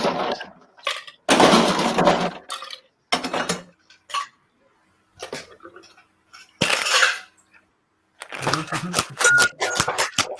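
A lidded cocktail shaker being shaken hard for a champagne cocktail made without ice, giving loud rattling bursts separated by pauses, with someone talking in between.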